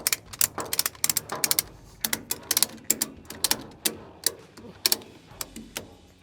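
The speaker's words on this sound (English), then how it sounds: "when you ratchet it down, it pulls on the back and pulls on the front" A Speedstrap 2-inch heavy-duty tie-down strap ratcheted tight, producing rapid bursts of sharp metallic clicks in uneven clusters, close and loud, with no talk over them.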